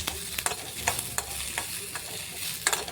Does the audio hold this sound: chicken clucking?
no